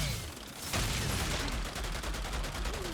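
Dense, continuous gunfire from the Outriders shooter game, a rapid volley of shots that fills the whole moment loudly, with no one talking over it.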